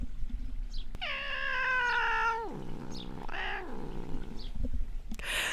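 Caesar the cat lets out a long, loud, drawn-out meow at fellow cat Mika, sliding downward in pitch, followed by a shorter, lower second yowl, close to the listener and with no talking.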